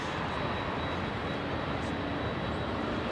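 Dynasty airliner at LAX departing for Taipei, a loud broadband jet engine roar that holds steady and close with no talk.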